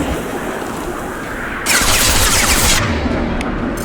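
Dense burst of rapid gunfire from the video game Mass Effect 2, loud and close, a sustained volley lasting about a second over a steady rumbling battle background.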